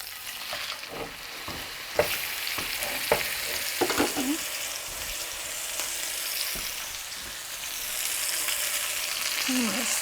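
Pot roast sizzling and frying in a hot pan, a steady crackling hiss with scattered sharp pops and occasional scraping or shifting of the meat, fairly close and continuous, no talking.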